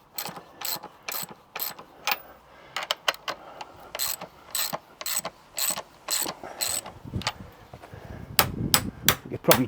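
A ratchet clicks in quick repeated bursts while tightening chains around an anvil on its stand, close and crisp, with brief pauses and some heavier metallic clanks near the end.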